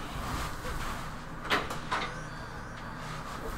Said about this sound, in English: I'll try opening the door.